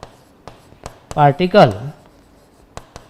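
Chalk or marker strokes on a board during a physics lecture, a few sharp taps and scratches spread out around a short spoken word.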